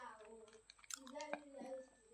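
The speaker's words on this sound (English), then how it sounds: "you bring it to your mouth and then the atari together with the plantain, you chew it" Close, quiet chewing of atari pepper eaten together with plantain, soft wet squishy bites and crunches over a couple of seconds.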